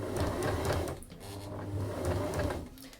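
A sewing machine stitches slowly around a curve in fabric for a Japanese bag, running in two close bursts of rapid mechanical clatter separated by a brief pause, with no talking.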